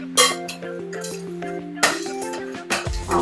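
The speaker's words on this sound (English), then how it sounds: "mix it all together with my big spoon" A big spoon clinks against a bowl while mixing sugar scrub ingredients, a few sharp scattered taps close by over soft background music.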